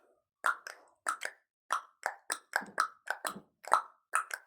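A person clicks their tongue to imitate a horse's hooves, making about a dozen sharp, close, hollow pops in a loose trotting rhythm with no talk.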